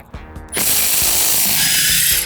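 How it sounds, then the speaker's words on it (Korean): A Milwaukee M18 mid-torque impact wrench loosens a tire lug nut with a loud, continuous rattling hammer burst that starts after a few soft clicks and runs steadily to the end. "미드 하이 토크 렌치로 제가 한번 풀어보도록 하겠습니다"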